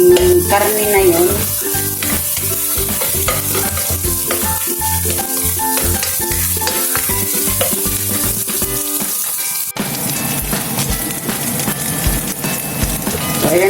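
Minced meat frying in a pan while cooking laing, a loud, steady, close sizzle with crackling and stirring throughout and a brief break near the end.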